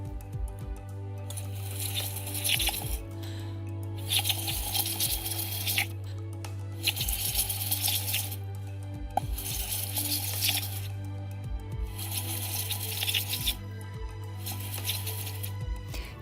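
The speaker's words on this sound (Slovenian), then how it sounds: "To lahko dokažem, če nekajkrat pihnem v vodo, ki je z indikatorjem brom-timol obarvana z modro." Air being blown through a tube into water dyed blue with bromothymol blue indicator, producing bursts of bubbling and gurgling lasting a second or two each, separated by short pauses under a steady low hum.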